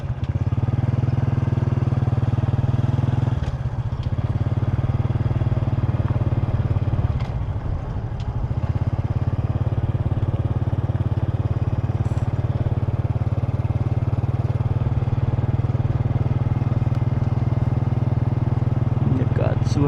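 A motorbike ridden along a road near Pakse, Laos, gives a loud, continuous low engine drone with steady wind rumble, briefly shifting pitch as the rider changes speed, with no clear speech.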